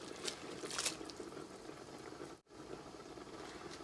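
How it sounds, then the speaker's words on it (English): Linguine boiling in a pot of water: a steady, close bubbling and rolling simmer with small pops, continuous throughout with one brief dip. "I'm gonna let this boil and let this cook for 2 minutes"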